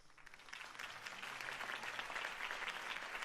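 Crowd applause in the Batman Telltale Series video game, a dense patter of clapping that swells from quiet to a sustained, fairly distant ovation, with no voices over it.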